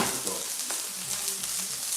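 Asparagus sizzles in a little oil in a pan that is too hot, a steady, hissy frying crackle that holds evenly throughout at close range, with no talk over it.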